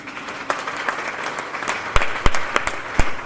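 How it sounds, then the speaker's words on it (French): A church congregation applauding, quiet and scattered claps at first that swell into louder bursts near the end. "Tu peux encore acclamer?"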